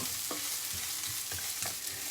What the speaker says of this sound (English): And you hear that popping in a second as they sort of fry up in the oil